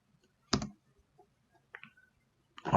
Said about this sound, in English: I'm going to come in here and type in here W3 schools float